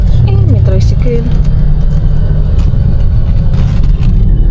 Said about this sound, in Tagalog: May tricycle.